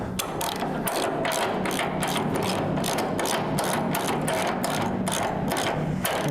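Rapid ratcheting clicks from tightening a frame jig on a 1973 Dodge Challenger restoration, a loud, close, steady mechanical ratchet rhythm repeating throughout with no talk.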